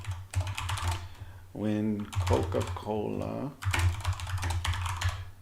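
Quick bursts of clattering keystrokes on a computer keyboard at a programmer's desk, rapid and close, with someone speaking over a pause in the typing.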